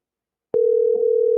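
A single steady telephone tone begins abruptly after a brief silence and holds on continuously, loud and clear, while a call is placed.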